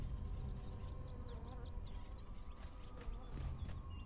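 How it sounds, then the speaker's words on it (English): Bees buzz in the survival game Conan Exiles, a busy swarm drone with quick rising whines over a steady ambient game background and a few brief sharper hits near the end. "Oh, we got some bees."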